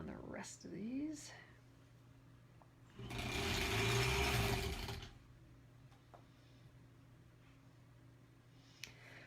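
A sewing machine stitches quilt blocks in a short steady burst of about two seconds, close and fairly loud, with a person talking before it and quiet handling sounds after.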